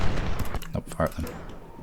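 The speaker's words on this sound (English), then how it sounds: "Fire at them." Troops fire muskets in the Ultimate General: Civil War game at Gettysburg, a quick scatter of sharp shots and cracks over a couple of seconds, close and irregular, with a voice speaking over them.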